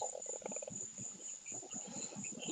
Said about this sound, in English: I hear the crickets too